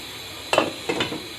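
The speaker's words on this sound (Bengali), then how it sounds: "ঢাকনা দিয়ে দিলাম, এখন আমি রান্না করব।" A metal lid set onto a pot of simmering tangra fish curry, two quick clinks and a soft clatter about half a second apart against a quiet kitchen background.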